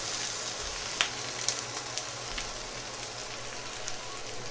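Mushrooms frying in oil in a pan, giving a dense, continuous sizzle with scattered pops and crackles, fairly close and steady throughout, with no talking.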